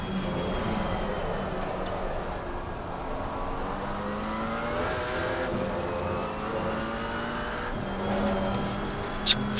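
Race cars circulate at Valencia in a racing game, engines droning and shifting pitch as they rev and pass, a continuous layered motor sound with no voices.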